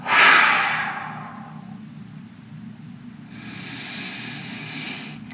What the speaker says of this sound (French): Expiration par la bouche